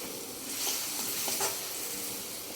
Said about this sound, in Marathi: दहीचं मिश्रण टाकल्यानंतर आपण हे जे मिरच्या आहेत ते छान असं एकजीव करून घेणार आहोत।